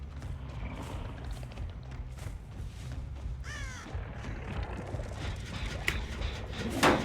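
A crow caws once or twice in a video game, fairly faint against a constant low rumbling ambience with occasional thumps and mechanical clatter.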